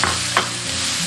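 Tomatoes with minced pork, chili, doubanjiang and aromatics are stir-fried in a pot, a loud close sizzle running steadily with a spatula scraping and stirring through it, no voices.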